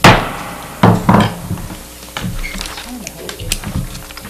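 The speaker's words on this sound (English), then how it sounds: "I like that little hammer." A small gavel strikes sharply to close a city council meeting, with one crisp knock at the start and another near a second, amid room noise and murmured voices.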